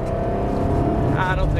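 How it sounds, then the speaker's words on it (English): Supercar accelerating on the ProDrive track at Kenilworth, a steady engine drone with rising harmonic tones climbing near the end, heard from inside the car, close and continuous. "squeezing back on the power. Accelerating down the straight"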